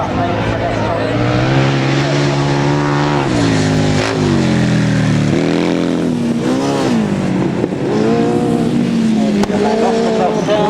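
Left-hand sidecar outfits race on a grasstrack at Tondridge, their engines a loud, continuous roar with revs swelling and dipping through the turns, while a commentator talks over them.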